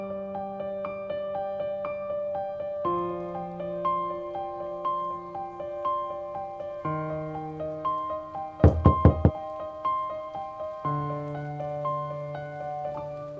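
A quick burst of about four sharp knocks on a door, loud and close, cutting through a sustained melodic music bed partway through.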